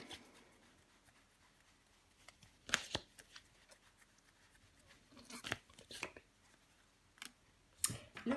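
Tarot cards shuffled, flicked and laid down on a table in quiet, close, irregular bursts of papery clicks and slaps, with a few sharper snaps between softer rustling.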